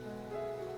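Steady rain pours down in a dramatic outdoor scene, a dense, even hiss holding constant throughout with a faint tonal hum from a music score underneath and no talking.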